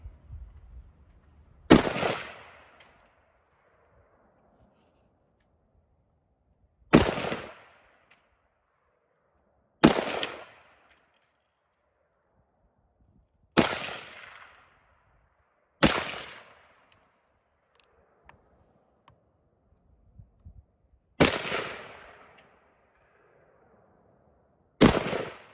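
Seven sharp single rifle shots from an AK variant in a video game, each a loud crack with a short decaying tail, spaced irregularly a few seconds apart with quiet between.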